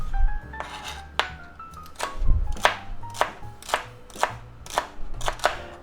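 A knife chops celery on a cutting board in a soup-making kitchen, a series of about ten crisp, sharp thuds at a moderate, slightly uneven pace, close and clear with no talking.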